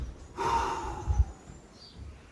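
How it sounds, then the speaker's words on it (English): One deep breath during a bodyweight HIIT workout stretch: a long airy inhale, followed by a soft exhale and faint low bumps, close to the mic. "I'm just gonna take a couple of deep breaths here."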